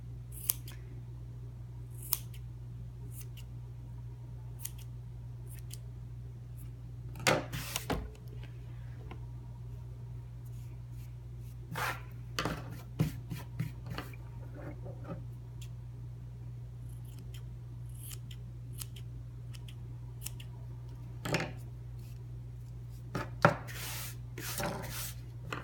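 Scissors snip the ends of a yarn tassel in sparse, crisp cuts, scattered singly and in small bursts over a steady low hum, close and fairly quiet, with no talking.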